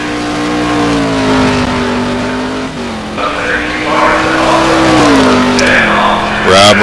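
A Nissan R35 race car engine in a sim racing game at Monza's Variante Ascari, loud and close, pitch gliding down and up through gear changes with a rising rev burst at the end.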